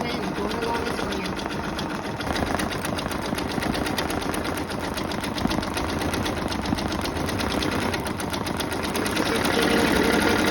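An embroidery sewing machine stitches a rose design onto a pair of jeans, running with a steady, fast mechanical chatter that holds throughout under nearby talk.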